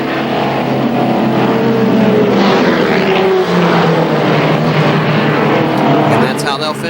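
ARCA SuperCars stock cars racing at KilKare Speedway in 1995 make a loud, continuous engine roar that swells and holds steady close by, with a voice talking over the noise.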